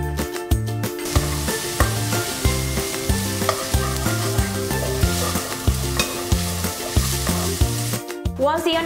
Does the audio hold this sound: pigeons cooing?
no